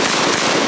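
A trench gun, a pump-action shotgun, fires in a single loud, sharp blast whose roar fills the whole short moment up close, with no voices.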